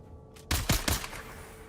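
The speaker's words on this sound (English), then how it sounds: "If you just shoot a gun." A gun fires in the video game Dune, giving two or three sharp, loud reports in quick succession that decay into a low hum. A brief faint sound comes just before them.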